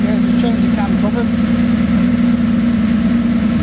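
The engine of a 1980 Jaguar XJ6 idles steadily with its hood open, a close, even low hum that holds constant under men's conversation.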